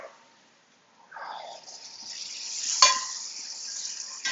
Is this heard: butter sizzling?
yes